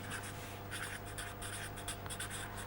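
Chalk or marker strokes on a board during a physics lecture, a series of quick scratchy squeaks in short bursts over a faint steady hum, with no talking.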